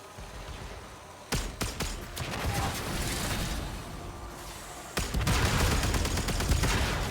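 Enemy ships fire guns in a space combat video game, sharp clustered bursts of shots over a steady rumbling bed, with a louder barrage near the end.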